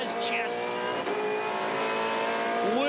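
A V8 Supercar racing at Albert Park, its engine droning loud and steady while the tyres scream for grip in rising, squealing tones through a corner.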